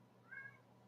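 A short single meow from a house cat, rising and falling in pitch, fairly close over a quiet room hum.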